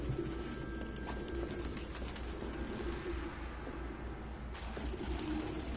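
In Detroit: Become Human, a flock of pigeons coos softly and steadily inside an apartment, a low murmuring drone with occasional wing flutters and no talking.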